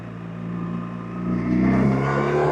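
A 2025 BMW R1300RT motorcycle pulls hard up a very steep hill in second gear, its engine note rising steadily and growing louder toward the end.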